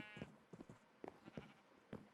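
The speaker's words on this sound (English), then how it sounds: "Look more sheep." Sheep in the video game Minecraft bleat several times in short irregular calls, fairly close and moderately loud, with no talking over them.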